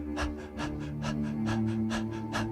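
People panting rapidly like a tired dog as a breathing exercise, in a steady rhythm of quick, close breaths, roughly two per second, with a low sustained hum underneath.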